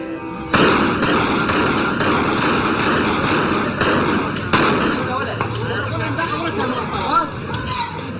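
Battle sounds from musket-era firearms: a dense, loud barrage of sharp reports and booming blasts under a rumbling din, continuous and chaotic, with smaller cracks scattered throughout.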